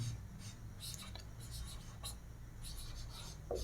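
Marker or chalk scratching on a board during a Hindi literature lesson, rapid bursts of strokes across a few seconds over a steady room hum, with a voice partly present.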